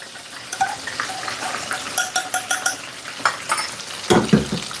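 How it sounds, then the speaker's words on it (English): Teriyaki wing sauce bubbling and reducing in a pan, a soft steady sizzle broken by clustered clinks and scrapes of a utensil stirring against the pan, close and moderately loud, with no talking. "Let that boil up a little bit"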